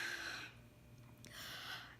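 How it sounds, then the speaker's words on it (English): A shallow chest breath, a quick airy intake followed by a short pause and a second soft breathy rush, close and quiet in a still room. "And that actually is a shallow breath."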